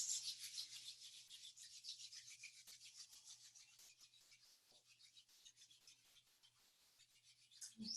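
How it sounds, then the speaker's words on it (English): Palms rub together in a steady, continuous dry swish during a Kundalini yoga kriya, close and soft, with no talking. "Let's bring the palms to touch and rub the hands."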